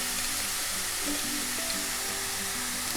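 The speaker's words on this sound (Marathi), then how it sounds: "तर हा कांदा जरा परतून घेते." Chopped onion sautés in a pan with salt, giving a steady, close hiss of sizzling and frying with faint stirring underneath.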